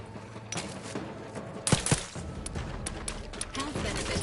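Rapid gunfire in The Outer Worlds 2 during a fight in a lab, a burst of sharp shots with scattered single cracks and mechanical clatter over a busy game soundscape.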